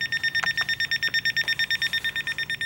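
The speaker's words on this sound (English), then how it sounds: "Thank you, little timer." A small kitchen timer alarm rings in a fast, even run of short electronic beeps, close and fairly loud, with a few faint knocks underneath.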